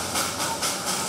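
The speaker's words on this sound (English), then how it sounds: "The sound of these steam locomotives has thus been heard in these hills for well over a century." A Darjeeling Himalayan hill steam locomotive chuffs in a steady rhythm, with hissing bursts of steam repeating roughly every quarter second. It sounds close, loud and continuous, with no voices.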